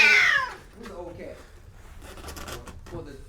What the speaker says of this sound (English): Oh, that's another cat.